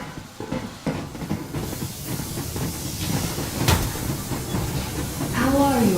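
Steam train Yermak pulling away in the Metro Exodus video game, a steady hiss of steam and rolling rumble that builds toward the end, with a rising whistle-like tone near the close.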